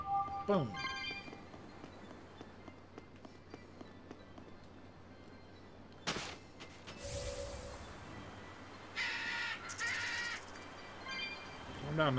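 A crow caws in the video game Tales of Berseria, a few harsh calls early and again later over a faint game ambience, with a player's voice speaking quietly between them.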